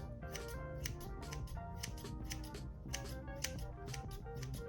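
Scissors snipping through natural curly hair during a DIY trim to shorten bangs, a quick irregular series of close crisp clicks over a constant backdrop of music.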